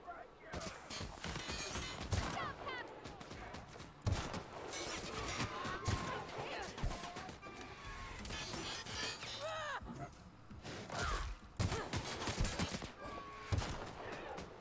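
Gunfire in The Outer Worlds video game: sharp shots crack out irregularly across the span, some in quick clusters, mixed with game effects and a person talking over them.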